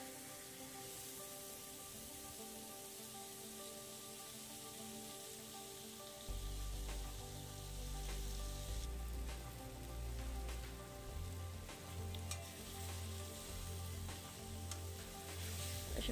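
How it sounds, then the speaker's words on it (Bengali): Pangas fish pieces fry in a pan for a chili fish bhuna, a soft continuous sizzle that grows louder partway through, with low rumbling and occasional scrapes of stirring, no voices. "আমি এটাকে এখন ভালো করে একটু ভেজে নিব, মানে মাছটা একটু সেদ্ধ হওয়া পর্যন্ত নেড়ে চেড়ে নেব আর কি।"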